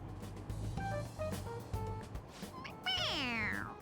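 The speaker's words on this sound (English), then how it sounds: "It meows when you press on its head." A stuffed toy cat in Persona 5 Royal lets out a clear meow when pressed, preceded by a few brief chirpy tones, alone over a faint background.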